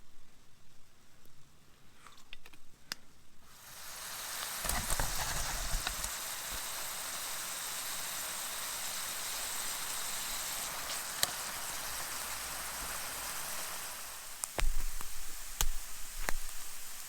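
Oil splashed onto glowing embers of an outdoor forest cooking fire while a chanterelle scramble cooks, rising into a steady sizzling hiss with scattered sharp pops and crackles that lasts over ten seconds, with louder snaps near the end.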